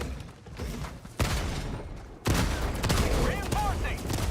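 Rapid autocannon gunfire from Helldivers 2 on the hardest Helldive difficulty against bots, loud and dense, with bursts of shots and impacts starting sharply midway and continuing, in-game chatter mixed underneath.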